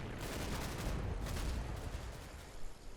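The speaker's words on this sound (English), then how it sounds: "We've got some shots going out and some mortar bombs." Distant battlefield in the Combat Mission: Battle for Normandy war game, with gunfire and mortar bombs forming a dense, dull rumbling fusillade of overlapping shots and thuds, plus a couple of sharper bursts near the end.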